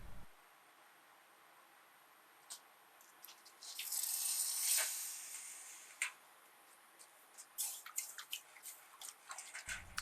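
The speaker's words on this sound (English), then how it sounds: "you'll every once in a while see me using a cup of water pouring over it to make sure it's cool" A cup of water is poured over hot forged steel, a coal rake being made at a coal forge, to cool it. A rushing hiss swells midway, then breaks into scattered crackles and pops as the metal cools.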